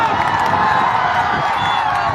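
Dense roar of a large crowd cheering at a political election rally in Bihar, a loud, steady wall of voices with no break.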